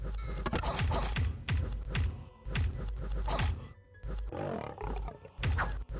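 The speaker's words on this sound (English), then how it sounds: "Oh, he's growling like a lion" Demiurge, an ethereal god in the strategy game Dominions 5, lets out repeated loud lion-like growls in pulsing bursts, running almost continuously, close and dense with clattering texture mixed through.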